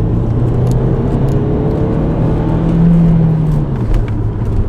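Turbocharged Audi Quattro with a 165-horsepower engine, a steady droning engine note that rises in pitch as the car accelerates, close and fairly loud throughout with no talking.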